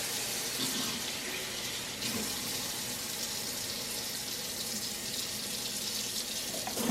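Tap water runs steadily into a kitchen sink while apples are washed by hand with a veggie wash to remove wax; a continuous close hiss with slight splashing shifts, no talking.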